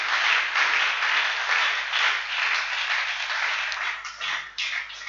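A church congregation breaks into loud, sustained applause and clapping, a dense wash of hands that swells and dips but keeps going throughout, with brief flickers of cheering beneath it.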